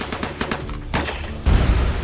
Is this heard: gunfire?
yes